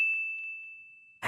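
A single bright notification bell ding rings out clearly and sustains as a pure tone, fading slowly over about a second before a burst of louder noise cuts in at the end.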